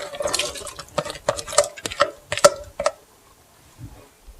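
Diced potatoes dropped into a pot of Brunswick stew, a quick series of wet plops and clatters against the pot, close and fairly loud, then a quiet pause with faint stirring.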